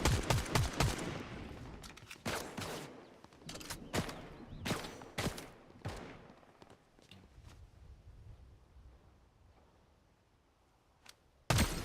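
Rapid bursts of gunfire in a video game shooter, loud sharp cracks clustered early then spaced out into single shots, with a final burst at the end and no talking.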